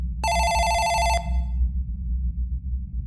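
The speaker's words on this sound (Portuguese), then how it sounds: "Estávamos conversando e rindo quando o telefone tocou." A telephone rings once, a bright trilling electronic bell lasting about a second, then cuts off abruptly over a low droning background.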